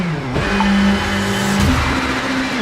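A Citroen C3 WRC rally car in the WRC 7 game drives a stage on Deutschland Rallye, its engine revving loudly and close with quick gear-change dips and tire noise, steady throughout.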